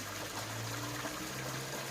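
Water trickles and splashes softly and continuously during a water change in a koi fry tank, a faint, steady liquid hiss with no voices.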